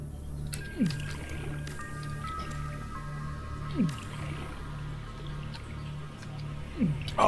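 Three wet, squishy crafting sounds from Subnautica, made while turning bladderfish into water, arrive at even intervals about three seconds apart. Each is a short slide over a steady low hum and a faint high tone.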